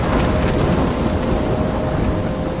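A thunderstorm in the video game Life is Strange, with heavy rain and a dense, steady roar of wind and low rumbling that fills the scene without pause, loud and close.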